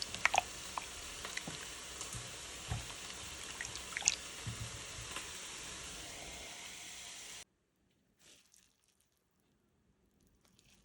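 Freshly grated potatoes, just rinsed, squeezed hard by hand: a close, steady wet crackle and squish that runs for several seconds, then cuts off abruptly into near silence.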